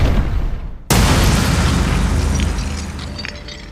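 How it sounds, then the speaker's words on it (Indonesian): A sudden loud blast tears open access to a water tunnel beneath a bank, preceded by a brief quieter stretch, then a heavy booming roar that slowly decays over several seconds. "Mereka meledakkan akses menuju saluran air di bawah bank"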